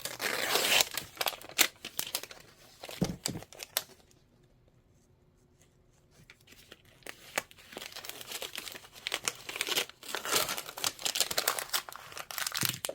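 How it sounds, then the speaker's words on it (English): A tool dragged to cut paper over embroidery stabilizer, close scratchy crinkling and tearing in uneven strokes, a quiet gap in the middle, then more rough scraping. "You want to drag it around so you cut through the paper, but not through the stabilizer"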